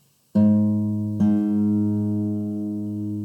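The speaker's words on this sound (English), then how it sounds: "you can always check tuning between a couple strings by holding down on a fret here" Two guitar strings ring out together, plucked once and then struck again, sustaining with a clear, slowly fading tone.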